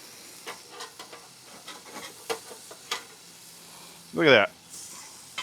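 Burgers cook on a camping grill, with faint sizzling and scattered spatula clicks. Then comes one short, loud hissing burst as a patty is flipped, and a person says a few words.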